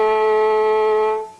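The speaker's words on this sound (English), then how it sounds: "when you put your first finger down on the G string," A single sustained violin A note, played with the first finger on the G string in a basic Texas fiddle lesson, rings steadily and clearly with a smooth bow stroke before fading at the end; solo and close.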